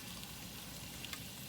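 Salted potatoes frying in a pan, a steady close sizzle with a few small crackles and pops, continuous and unvoiced.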